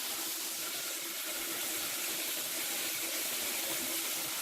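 A bathroom tap runs in a steady, even hiss for a face wash, close by and unbroken throughout, with no talking over it.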